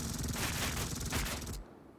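A machine gun squad opens fire in a World War II strategy game, a dense sustained burst of automatic gunfire that cuts off abruptly into quiet.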